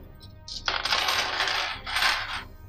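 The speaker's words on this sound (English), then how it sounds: "Inside are 30 metal pirate coins that are modeled after Spanish doubloons." Metal pirate coins modeled after Spanish doubloons, each about quarter-sized, drop and clink together in a few bright, jingling bursts, close and clear with no talking.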